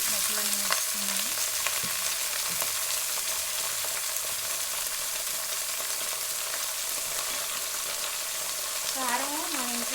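Vegetable pieces sizzle and fry steadily in a hot pan for the whole stretch, a dense crackling hiss close to the microphone with a few brief clinks and scrapes of stirring.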